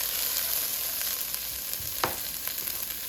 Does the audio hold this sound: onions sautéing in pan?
yes